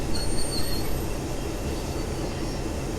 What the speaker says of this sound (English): Wow, nice little train meet there.